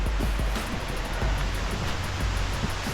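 Creek water rushes steadily near a waterfall on a rocky hike, a loud, continuous broadband roar heard up close without pause, with no talking.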